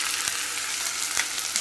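Chopped onion frying in a pot for pilau, a steady dense sizzle close by, continuous and even with faint crackles, no voices.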